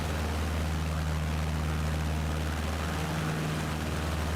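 An airplane in Microsoft Flight Simulator 2020, a steady droning engine hum with a low propeller-like tone, loud and continuous throughout, with no talk over it.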